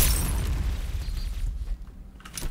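A loud, rumbling grenade explosion in the game Point Blank, with a heavy low boom that fades over a couple of seconds, with no talking.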